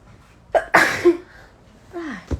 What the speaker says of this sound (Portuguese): Eu vou espirrar